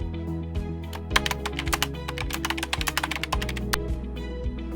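Rapid keystrokes clatter on a computer keyboard as a product name and description are typed, irregular clicks in quick bursts over a low sustained musical backdrop.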